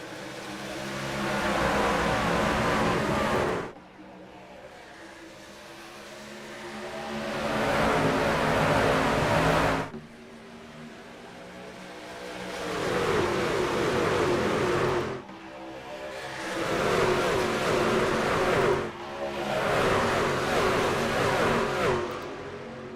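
Stock race cars roar away together at the start of a race at Atlanta, a loud sustained engine wall surging and swelling in repeated waves as the pack accelerates past, with no talk over it.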